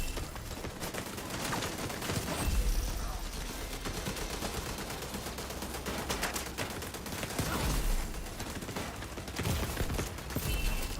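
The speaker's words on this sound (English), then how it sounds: "Why are you still shooting me?" Rapid bursts of gunfire in The Division 2 video game, loud and dense, with continuous automatic shots and scattered single reports running throughout, no speech.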